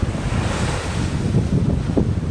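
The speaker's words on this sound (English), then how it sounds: "I'll just show you the tide at the minute." Ocean waves wash in at the shore as the tide rises, a loud, continuous rush of surf with heavy wind buffeting the microphone and no voices.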